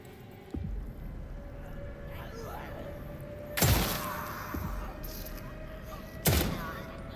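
Gunfire in The Sinking City 2 video game: two or three sharp, separate shots crack out several seconds apart, with quieter ambient noise and faint game sounds between them.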